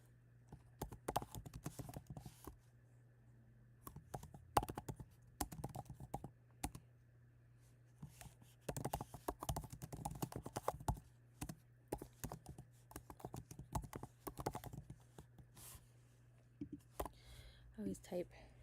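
Fingers type on a computer keyboard in quick, uneven clusters of soft clicks with short pauses between them. The sound is close but quiet.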